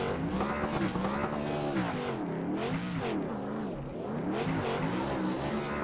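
Racing truck in a video game doing a long burnout, its engine droning loudly at high revs with wavering pitch and steady tire noise throughout, continuous and close.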